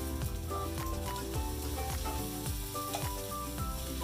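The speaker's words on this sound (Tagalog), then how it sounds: "We stir fry for a few minutes." Jackfruit with pork is stir-fried in a pan for a Bicol Express-style dish, a steady close sizzle broken by repeated scraping and stirring strokes.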